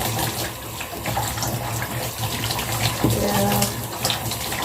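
Tap water runs steadily into a sink or basin while an indoor plant is rinsed, a continuous broadband gush with a brief voice speaking over it near the end.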